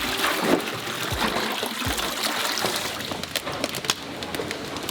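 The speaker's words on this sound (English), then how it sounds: "Next, they wash each bean to remove any impurities." Water trickles and splashes as vanilla beans are washed by hand to remove impurities, a steady close wet rinsing with a few soft knocks.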